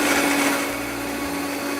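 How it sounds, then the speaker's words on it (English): A blender runs steadily, blending a cheese sauce, with a continuous loud whirring motor hum and shifting low-end churn as the contents move, no voices over it. "It's time to blend."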